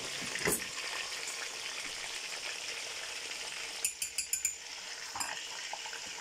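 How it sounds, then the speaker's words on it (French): Small peeled tomatoes drop into a hot pan and sizzle, a steady frying hiss with a few sharp utensil clinks and stirring taps near the end, no voices. "maintenant, je vais y ajouter la tomate"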